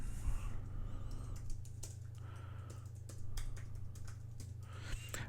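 Steady clicking of keys on a computer keyboard while Angular code is written, a quick irregular run of soft taps over a constant low electrical hum, fairly close and moderately quiet.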